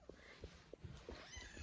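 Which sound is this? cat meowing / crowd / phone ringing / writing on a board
cat meowing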